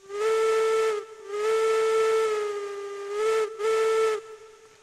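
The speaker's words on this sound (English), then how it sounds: "Did you hear my horn blowing?" A steam locomotive whistle from the railroad game Railroads Online blows in four long and short blasts, loud, clear and hissy, with no voices.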